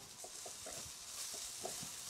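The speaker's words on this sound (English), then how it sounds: "always make sure that you stir it" Beef curry being stirred in a pan, with soft sizzling and intermittent scraping strokes of the spoon repeating at a steady pace, quiet and close.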